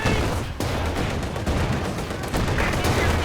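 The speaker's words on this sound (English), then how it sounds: "Grenadiers taking a lot of shots there" Dense battlefield gunfire in the Company of Heroes 2 strategy game, rapid overlapping rifle and machine-gun shots crackling continuously and loudly throughout.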